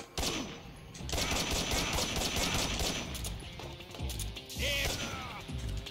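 Dense bursts of gunfire in Metal Gear Solid 3, rattling continuously with heavy thumping impacts and mechanical clatter layered over a busy, noisy battle background.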